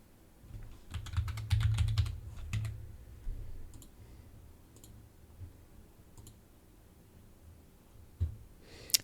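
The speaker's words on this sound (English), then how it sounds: "Let's type in Witch." Close keyboard typing from a Magic: The Gathering deck-building session: a dense burst of clicking keys up front, then sparse single taps and clicks spaced across the rest, fairly quiet.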